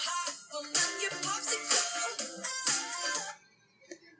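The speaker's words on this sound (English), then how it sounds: "We're going to play the song on the other device." Pop song played from another phone or device and recorded for a text tone, heard as a short burst of bright music that cuts off abruptly, followed by a faint trailing sound.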